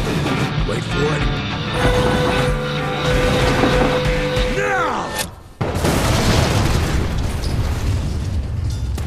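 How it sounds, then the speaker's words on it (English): A loud explosion booms during the intro cutscene of the video game Evil West, set around a train and a bridge, with a sharp burst and heavy rumbling debris after a stretch of dense scored sound and voices. "I know how to shape an explosion, Edgar."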